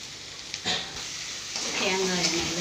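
Masala with ground coconut and cumin stirred and sautéed in coconut oil, a soft sizzle running steadily under occasional scraping stirs.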